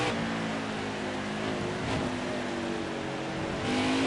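Race car engine in a racing video game pulling hard in second gear on the Charlotte Roval, a loud, steady harmonic drone rising in pitch with a brief shift-like dip near the end, no talking.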